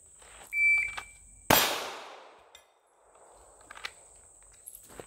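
A single Smith & Wesson Bodyguard 2.0 pistol shot strikes a steel plate, a sharp, loud crack with a ringing metallic tail that fades over about a second. A steady high electronic tone from a shot timer sits behind it.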